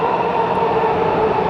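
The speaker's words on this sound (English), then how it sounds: "there's another train coming in, so hold tight" A Washington DC metro train rolls into an underground station with a loud, steady rumble and roar that stays constant and near throughout, with no voices.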